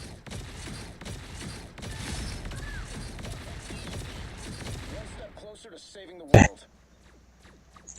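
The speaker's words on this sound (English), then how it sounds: "Micro Missile Barrage launches a bombardment of scattered missiles beneath Iron Man, dealing explosive damage in an area" Iron Man's Micro Missile Barrage in a video game sets off a dense, scattered string of explosive pops for about five seconds, then quiets before one sharp loud burst.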